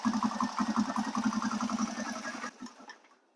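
A Honda TRX250EX quad engine catches and runs with a rapid, even putter for a couple of seconds, then cuts out abruptly and falls quiet.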